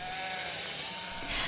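Sheep bleating, a faint, wavering call amid a soft ambient wash, with no talking.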